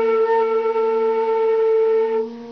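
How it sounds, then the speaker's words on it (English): A flute holds a B flat that sounds flat because the instrument is rolled too far in, one long steady tone, close and clear, fading slightly at the end. "If it's rolled too much in, it'll sound like this."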